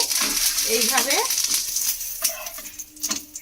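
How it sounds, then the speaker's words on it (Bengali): A lentil-flour paratha frying in a spoonful of oil in a pan, a steady sizzle and crackle with someone talking over it. "এইভাবে 2 পিঠ ভেজে নেব"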